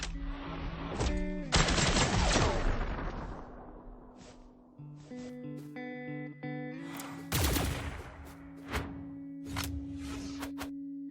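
Blaster weapons fire in the video game Brawlhalla as short, sharp bursts and clicking shots, a dense volley early on and a few more later, set against steady tonal game music.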